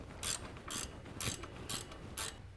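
A ratchet tightens the bolt on an S-tine assembly for a Tilmor Power Ox, giving five quick, evenly spaced bursts of ratcheting clicks, close and clear with no talking.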